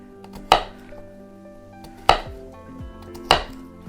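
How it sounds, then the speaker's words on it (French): A knife chops food into small cubes for an Ardennes cacasse à cul nu, three sharp, close blows on a board spaced a second or more apart, with quiet kitchen clatter between them. "on les coupe encore une fois comme ceci, en 3, pour former à la fin des petits cubes"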